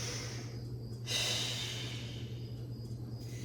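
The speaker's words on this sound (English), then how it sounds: "Taking a couple deep breaths." A person breathes deeply during an advanced Pilates mat exercise, giving one long, airy exhale near the start over a quiet, humming room.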